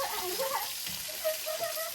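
Chicken frying in hot oil at a village party, a soft continuous sizzle with scattered spattering crackles, fairly faint and steady throughout.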